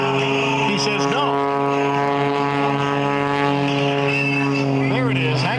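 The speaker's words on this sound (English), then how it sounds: "There it is, hanging on the propeller and push forward." Aerobatic propeller airplane hanging on its propeller during a Jim LeRoy routine at the Quad City Airshow, a loud, steady engine drone with strong harmonic whine, a few pitch swoops near the middle and the end, and a commentator talking over it.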